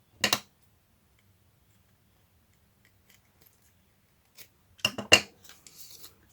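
Scissors snipping a paper doily: a quick crisp cut near the start, a pause, then a cluster of several sharp close snips, each short and dry, in otherwise quiet surroundings.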